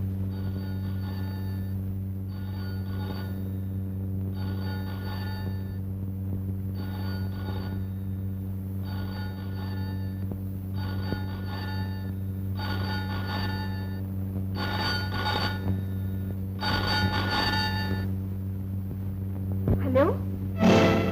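An old telephone bell rings in repeated bursts in a 1976 Tamil film scene, steady and fairly close, over a constant background hum, with a voice near the end.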